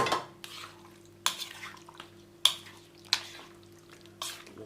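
A utensil scrapes and knocks against a bowl in periodic strokes, about five distinct clinks over a steady low background hum, while flour batter is stirred and mixed for sweet and sour chicken.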